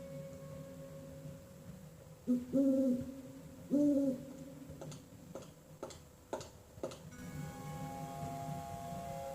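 An owl in the 1997 Westwood Studios PC game Blade Runner gives two low, clear hoots a moment apart over a steady ticking, followed by scattered clicks and a soft hum.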